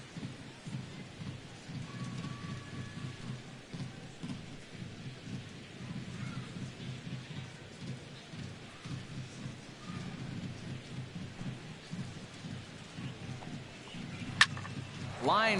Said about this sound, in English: you really can't take anything for granted out there when you're playing in the rain